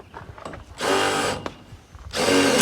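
Power drill driving screws into aluminum channel on a farm tunnel cover, two loud sustained whirring bursts separated by a short pause, with faint clicks and handling noise before and between.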